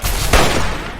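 Gunfire in Fallout 3, a short dense burst of shots with a sharp loud crack near the middle, continuous over roughly a second.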